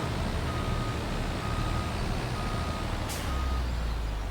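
A truck in Farming Simulator 25 backs up with steady, evenly spaced reversing beeps over a low engine drone, and a short air-brake hiss cuts in near the end.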